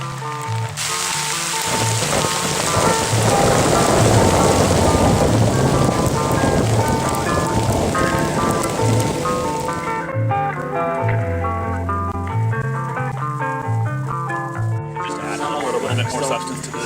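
Steady heavy rain and wind from a full winter storm in the Pasayten Wilderness, a loud continuous wash that goes on for the whole stretch, with a few low rumbling bursts and some muffled talking mixed in.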